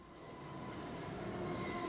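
A train travels in a steady, continuous rumble with a faint whine above it. The sound holds at a constant level, close and enveloping, and no one speaks.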